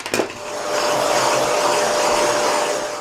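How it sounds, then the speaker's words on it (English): Vacuum cleaner hoovering sanded dust off MDF boards, a steady loud whooshing drone that starts after a brief knock and runs continuously, close by with no talking. "I'll just hoover these to get rid of that dust"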